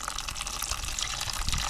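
Coolant drains steadily out of a 1985 Honda Goldwing GL1200 engine, a continuous close-up splashing gush of liquid with no pauses and no talk.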